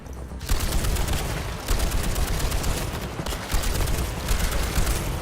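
Sustained machine gun fire in the Toxic Commando video game, a dense continuous rattle of rapid shots with brief pauses between bursts, loud and close with no talking.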